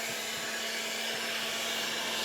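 A hair dryer powered from an electric canister for an electric car, running with a steady loud whooshing blow and a constant hum, no talking.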